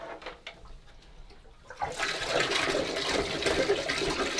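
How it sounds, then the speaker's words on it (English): Flush of the toilet in a Storyteller Overland camper van: a few faint clicks, then a loud, close rush of water that keeps pouring steadily for several seconds. "then I'll just hit the flush"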